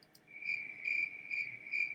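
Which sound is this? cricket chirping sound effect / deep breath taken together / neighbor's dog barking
cricket chirping sound effect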